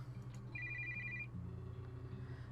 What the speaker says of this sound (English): my phone rings